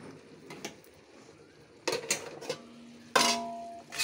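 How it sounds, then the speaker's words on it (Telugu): Ridge gourd pieces stirred in a pan, with a few light scraping clinks of a spoon against the metal and a louder clatter near the end, close and alone. "బీరకాయ ముక్కలు వేసి కలిపి"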